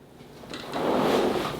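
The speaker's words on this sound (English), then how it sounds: "And the squeak of the bench." A bench squeaks and creaks under shifting weight, with a short, close, scraping groan that swells and holds for about a second.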